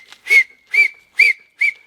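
Four sharp, high whistled notes at an even pace, each short burst rising to a bright tone, with brief silences between them.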